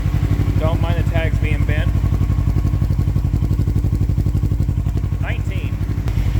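A 2007 Suzuki GS500F motorcycle engine running at a steady, lumpy idle with a rapid regular chug close by, as someone talks over it.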